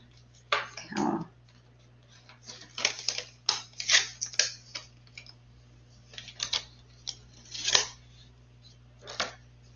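Scissors cutting paper ladybug and flower shapes, a series of crisp snips and rustles in irregular bursts, close and fairly quiet over a low steady hum, with no voices.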